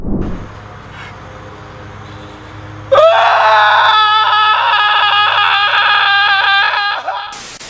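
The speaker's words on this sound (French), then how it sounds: "Horrifié, Jesse hurle de toutes ses forces, il est dépité." A boy screams and wails at full force over his destroyed video games, a loud, sustained, strained cry that suddenly erupts after a quieter stretch and holds for several seconds.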